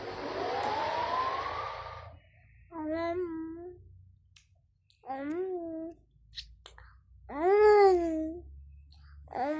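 In a Toca Boca game, a baby wakes up with several separate whimpering, babbling cries, each rising and falling in pitch, with short quiet gaps between them and the last cry the loudest.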